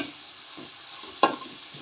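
Tomatoes fry in a pan in a soft, steady sizzle, with one sharp clack of a spoon or spatula near the end. The sound is close and nobody speaks.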